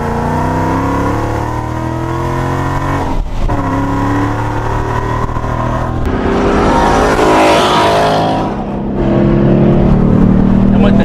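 A 650 hp Procharged Ford Mustang GT engine pulls hard through the revs, loud and close, with a break for a gear change. It builds into a rising supercharged whine, then settles back into a deep drone.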